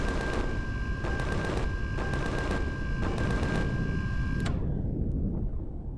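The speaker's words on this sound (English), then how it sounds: "My turrets are shooting all the nasty aliens in the area." Turrets fire steadily at aliens in the sci-fi survival game Empyrion Galactic Survival. Dense, continuous mechanical gunfire bursts in rhythmic pulses over a constant electronic hum, then cuts off abruptly near the end.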